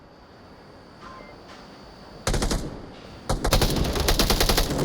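Gunfire in a competitive video game match, with a few faint distant shots and then loud bursts of rapid automatic fire that break off and resume, close and dominant.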